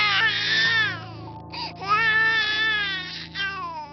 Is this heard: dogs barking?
no